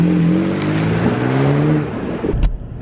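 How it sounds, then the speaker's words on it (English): A Toyota Tacoma pickup revs hard from a standstill, its engine note climbing steadily and close for about two seconds before cutting off with a brief thump. "just floor it and take off and see if we get any kind of tire spin at all out of the Tacoma"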